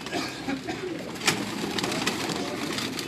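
Pigeon cooing softly at moderate distance, low murmuring coos running through the clip alongside a brief sharp click and faint background bird calls; a man shows off the pigeon's wing.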